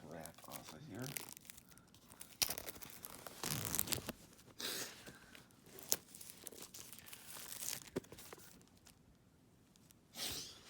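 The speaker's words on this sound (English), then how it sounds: "Let's get this plastic wrap off of here." Plastic wrap being torn and peeled off a boxed Apple Pencil, with close, crackly bursts of tearing and crinkling that come and go over several seconds.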